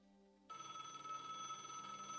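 A telephone rings in the Broken Sword adventure game, a steady electronic ring that begins abruptly after a brief quiet moment and carries on, fairly loud and close, with no talking over it.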